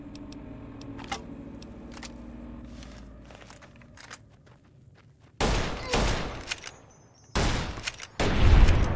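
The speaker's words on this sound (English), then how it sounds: "many times do I have to shoot you before you die?" Gunfire in Fallout New Vegas, with scattered shots early on, then loud, dense bursts of firing in separate volleys toward the end, up close and heavy.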